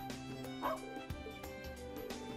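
Small puppy yips and bow-wows from Trails of Cold Steel III, several short barks over game music and ambience, fairly close and moderately loud.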